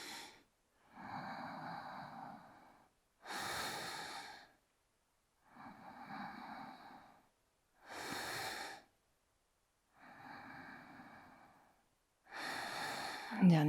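Slow, deep yoga breaths, loud and close, alternating long inhales and exhales in a steady rhythm of about six breaths with short silences between, no talking over them.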